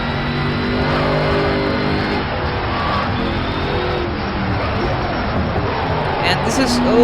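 Engine drone and tire noise from a race car in a driving game, played with a G27 wheel, run steady and loud for the whole stretch, with layered engine tones shifting gradually.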